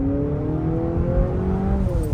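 A 2024 Honda CR-V hybrid SUV picks up speed on a road, its engine a steady, rising whir heard from inside the cabin, loud and continuous.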